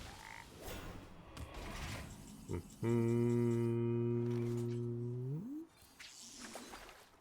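A single long, deep, creaky frog croak from the Hearthstone video game sounds for about three seconds, standing out over quieter game noise.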